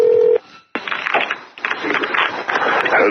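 Telephone keypad tones on a taped phone call: a short clear beep, a brief gap, then a run of busy, overlapping dialing tones and line noise.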